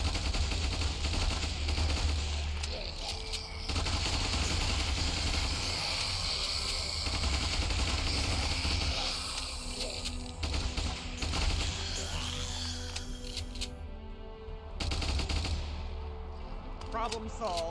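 Rapid gunfire from troops fighting a zombie horde in Ultimate Epic Battle Sim, dense crackling bursts over a steady low rumble, with brief pauses and a voice talking over parts.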